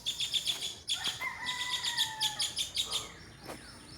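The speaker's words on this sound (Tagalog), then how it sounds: "Na ito naman yung mga kilyawan." Repeated bright chirping calls of birds, likely black-naped orioles (kilyawan), in quick rhythmic bursts with a couple of longer whistled notes, moderately near and heard alone without talk.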